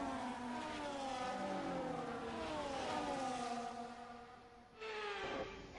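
Formula 1 race car engines on the formation lap at Bahrain in the F1 24 video game, a steady loud drone of high revving engines that slides through gear changes and then briefly surges near the end.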